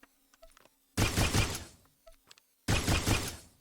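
The Obscurity blaster in SWTOR fires two loud broadband bursts of rapid crackling shots, each lasting about a second and a half, separated by quieter clicks and faint handling sounds.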